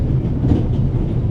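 Steady low rumble of a train rolling on rails in The Raven: Legacy of a Master Thief, a dense continuous clatter with faint rhythmic wheel beats, heard alone and close.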